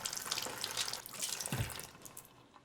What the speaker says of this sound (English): I'm gonna wash my hands before I touch the salt and pepper